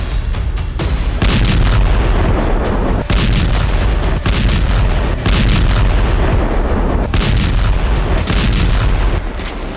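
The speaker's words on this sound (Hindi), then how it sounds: "अब यूक्रेनी फोर्स इन्हीं बमों से हमले कर रही है।" Glide bombs strike Russian territory in a Ukrainian attack, producing a dense run of loud, booming blasts and cracking reports that repeat in rapid succession and fill the whole stretch with heavy, continuous noise.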